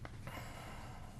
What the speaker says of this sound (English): pardon my heavy breathing